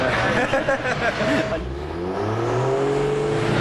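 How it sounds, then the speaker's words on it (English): A Toyota Supra engine revving hard on a dyno at Brisbane Auto Salon, loud and close, with a rising pitch that drops away and then climbs again. "spotted this Supra on the dyno at Brisbane Auto Salon"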